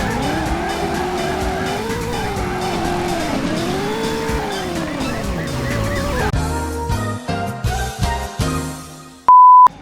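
In the Driver PS1 video game, cars roar and squeal with tires skidding, then crash through a run of sharp impacts, ending in a loud electronic beep.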